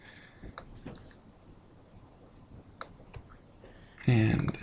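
Mouse clicks on a computer during a software tutorial, a few soft scattered ticks under quiet speech, ending in a louder burst of handling noise.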